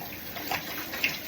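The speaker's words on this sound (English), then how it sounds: "rinse it thoroughly" Shower water runs steadily while shampoo is rinsed out of hair, a soft continuous spray with slight splashing variations, close and moderate in level, and no talking.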